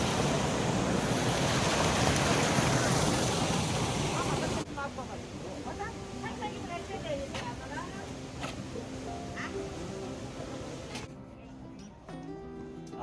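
Loud, broad rushing water from a mountain stream feeding into a river at Mana village in Uttarakhand, steady for several seconds before it falls off and gives way to people talking nearby over quieter flowing water.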